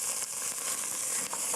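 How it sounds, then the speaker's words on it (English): Tomato sauce frying in a hot pan gives a steady, close, continuous sizzle with faint crackles throughout and no voices. "The magic with frying the tomato sauce before the onion is that it really actually"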